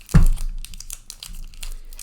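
Topps Heritage baseball card packs are torn open, one sharp rip followed by softer crinkling and rustling of the wrappers, close and alone.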